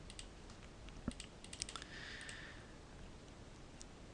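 Soft, quick keystrokes on a computer keyboard, a short burst of clicks in the middle of an otherwise quiet room. No one speaks.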